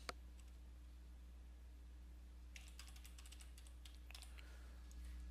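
Soft typing on a computer keyboard in two short bursts of clicks separated by a quiet stretch, faint over a steady electrical hum.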